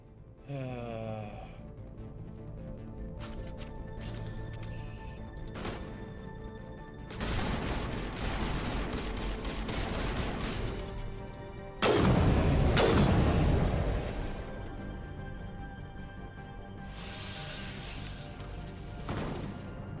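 Gunfire and explosive crashes in the Mass Effect video game, dense bursts of shots rising to a loud barrage near the middle, over a musical score with no talk.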